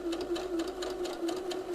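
A sewing machine stitches a caraco top close to the fabric edge, its needle chattering in a fast, even rhythm with a steady motor hum, close and clear.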